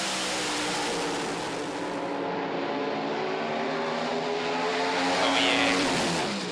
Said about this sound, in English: That's a drag race.